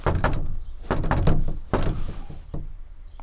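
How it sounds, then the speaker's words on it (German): A patterned secret code knock on a door: several sharp, close raps grouped into a distinct rhythm, loud and near, with short pauses between the groups. "was ist denn unser Klopfzeichen?"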